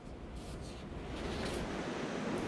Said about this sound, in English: On this beach in Chile, where most people only see sand and waves